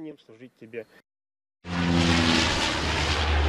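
A person talks briefly, then after a short gap a water-bombing firefighting plane's engine roars in loud and steady, a broad continuous drone with a low hum underneath that holds to the end.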